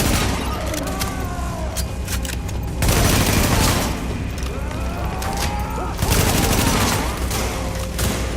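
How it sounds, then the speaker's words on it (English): Sustained gunfire in the video game The Division, dense rapid shots with louder bursts near 3 and 6 seconds, mixed with game effects and faint voices underneath. "So, that shooting, that was you, right?"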